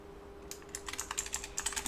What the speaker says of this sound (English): So I'm typing into Discord